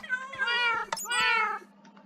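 Cats meowing up close in Minecraft: two drawn-out, wavering meows separated by a brief sharp click, then a few faint soft chirps as it tails off.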